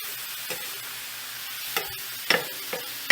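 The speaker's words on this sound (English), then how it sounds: "Not going to take long to cook this ground meat." Ground meat sizzles in a hot pan with a steady frying hiss, broken by a few scraping stirs from a utensil, close and without talk.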